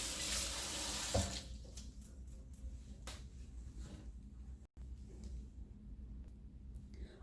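Tap water runs steadily into a kitchen sink while lemons are washed, giving a continuous splashing hiss with some louder gushing at the start and occasional clunks of fruit and handling.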